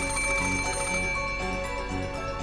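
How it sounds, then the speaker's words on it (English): A telephone rings in the Umineko visual novel game, a steady electronic trill repeating at an even pulse over sustained background music, clear and fairly loud with no talk. "the ring of the phone, which had once sounded like a scream for help"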